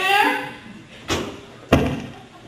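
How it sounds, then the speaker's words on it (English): A worker bangs on a bedroom door at 4 a.m., two sharp, heavy thuds about half a second apart, close and loud, following a brief voice at the start. "a worker comes and bangs on my door"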